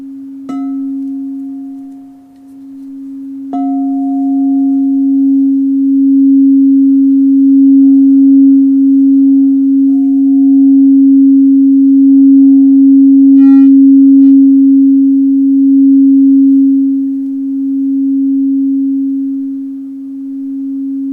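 A sustained, pure humming tone from a C-sharp crystal singing bowl rings steadily and loud, with a couple of soft strikes adding brief overtones near the start.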